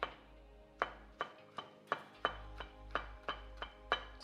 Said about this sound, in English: Just gonna chop that up really fine